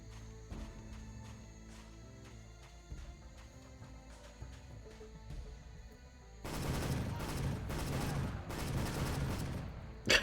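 Rapid bursts of gunfire from the video game Soldier of Fortune: Payback, a few scattered shots at first, then dense sustained volleys filling the last few seconds loudly.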